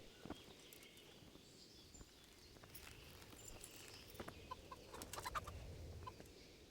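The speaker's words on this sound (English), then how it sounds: "Chicken, go away." Chicken clucking in a medieval castle setting of Kingdom Come: Deliverance, soft scattered clucks and faint footsteps under low background ambience, fairly distant and quiet.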